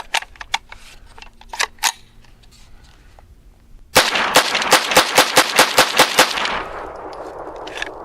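A Smith & Wesson .22 pistol fires CCI Uppercut ammunition: a few spaced, loud cracks, then a rapid string of about a dozen close shots in steady rhythm, with a ringing tail afterward.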